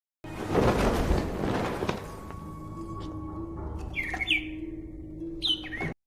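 A bird calls in a Harry Potter and the Half-Blood Prince scene, with a few sharp chirps and squawks following a rustling, thumping burst, set over a low steady background hum.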